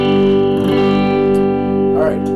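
Guitar chord with the A string muted by the pad of the second finger, ringing as one steady sustained strum, close and fairly loud with a few soft scraping touches.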